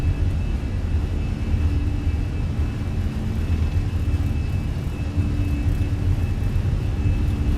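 Airliner engines at takeoff power in Microsoft Flight Simulator, an Aer Lingus flight bound for Heathrow, make a steady, loud roaring rumble with a faint whine that holds throughout, no voices.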